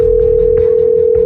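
A telephone dial tone hums as one steady, unbroken pitch from start to finish, clear and fairly loud over a faint low rumble, with no voices.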